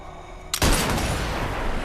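A sudden loud gunshot blast with a long rolling tail from a sniper rifle in the VR shooter Sniper Elite VR, standing alone after a quiet lead-in.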